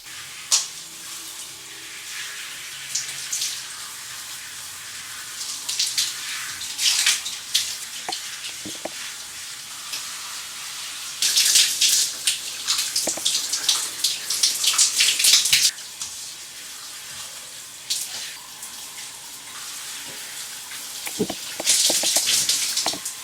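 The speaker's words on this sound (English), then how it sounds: "when I was rinsing the conditioner out" Running water rinsing conditioner out of braided hair, an uneven splashing stream that swells and fades in bursts, with louder gushes near the middle and the end.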